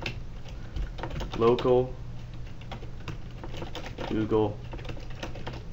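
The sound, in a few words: typing a folder path on a computer keyboard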